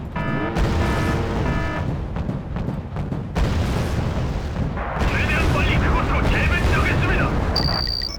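Naval gunfire and ships being hit in a Wargame strategy game with a North Korean conflict scenario: continuous loud barrages of booming shots and explosions, layered with tonal game effects and a sharp electronic beep near the end.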